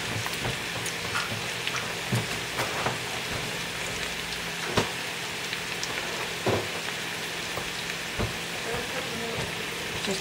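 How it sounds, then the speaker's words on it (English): Potatoes sizzling in hot grease in a pan, a steady crackling fry throughout with occasional louder pops and stirring clatter, close and with no talking. "I'm gonna put this all in here because the grease is hot."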